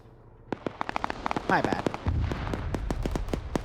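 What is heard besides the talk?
distant explosion in video game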